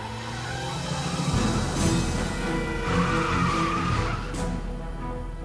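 A sports car in Broken Sword 3 skids past with squealing tires over a steady engine drone, the screech swelling and fading across several seconds.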